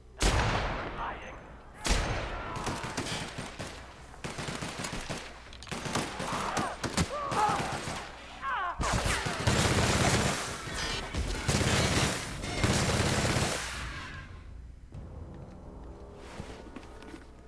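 Gunfire from a video game shoot-out in The Outer Worlds, with loud bursts of rapid shots and crashing impacts while a target is shot out of midair, followed by a quieter tail.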